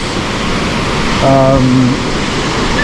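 Constant heavy rush of falls on the Pitt River, near and loud throughout, with a short spoken phrase riding over the roar around the middle.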